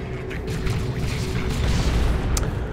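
A generator destroyed in the strategy game Dawn of War II: Retribution bursts in a dense, rumbling explosion that rolls on as a sustained low boom, loud and close, with no talking over it.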